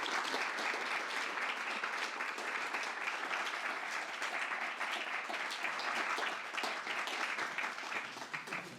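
An audience at a talk on enslaved Black Utah pioneers gives dense, sustained applause to welcome the speaker. The clapping stays steady throughout and fades slightly at the end.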